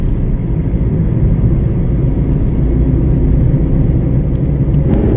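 Steady, loud road rumble and engine drone from inside a car cruising nonstop on the Ahmedabad–Dholera expressway in Gujarat, continuous with no breaks.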